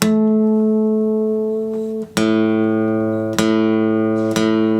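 A single guitar A string rings out sustained, then is plucked again three more times during tuning, each pluck sharp and bright before slowly fading, with no talking.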